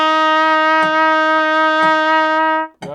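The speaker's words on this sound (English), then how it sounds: "You're now going to learn an F note." Trumpet holds a steady sustained F note, one valve pressed, for over two seconds alongside soft rhythmic clicks of a count, then cuts off.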